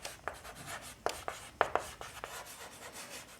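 Chalk or marker strokes on a board while an equation is being solved, a run of short scratchy taps and rubs in uneven rhythm, close and fairly quiet, with no talking.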